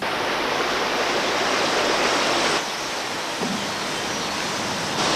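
A river rushes steadily along the Cardiganshire coast, a broad constant hiss of flowing water, close and loud, with a brief dip in level partway through.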